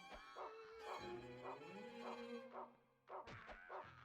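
Brown the dog in the horror game Rule of Rose barks in repeated yelps and whines, his cries rising and falling in pitch over a few seconds, loud and close, with a sharp thud near the end.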